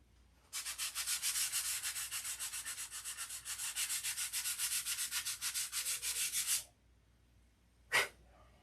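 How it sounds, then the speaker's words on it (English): A steady back-and-forth rasp of sandpaper worked by hand, fast rhythmic strokes for about six seconds close up, then stopping, followed by one short scuff. "I'm gonna take these off and sand them out."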